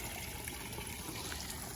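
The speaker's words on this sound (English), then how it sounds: "the sound of this water is just so wonderful to sit out here and enjoy" Water trickles steadily in a backyard garden, a soft, continuous splashing wash with no breaks and no voices.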